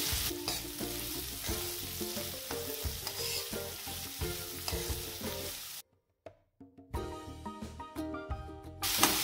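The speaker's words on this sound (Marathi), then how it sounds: "ते गोल्डन ब्राऊन होईपर्यंत परतून घेणार आहे आपण." Onions sizzling and frying in a pan until golden brown, steady crackle and occasional stirring, then a brief quiet pause before the frying resumes, close and loud.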